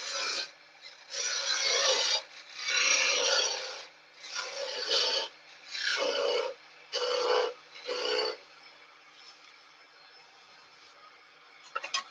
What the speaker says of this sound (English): Do a quick sandy sand, not going to do it too much with this one because it's a bit of builder's timber